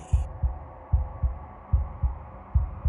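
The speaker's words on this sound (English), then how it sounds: "a wooden and fleshy heart beating with an unbroken rhythm" A wooden and fleshy heart from the game Slay the Princess beats in a steady, unbroken rhythm, deep thudding pulses in pairs over a low hum, with a brief high tone at the very start.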